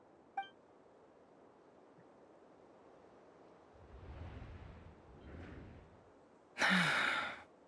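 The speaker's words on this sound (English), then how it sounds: "I heard Yehoda gasp" A short sharp breathy gasp in the video game Genshin Impact near the end, after a quiet stretch with faint airy rustling and a brief electronic blip at the start.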